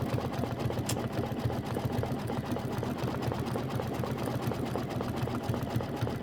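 Kimberbell embroidery machine stitching a Halloween pumpkins-and-potions design, running steadily throughout with a dense, even rhythmic whir of rapid needle strokes at close range, with no talking.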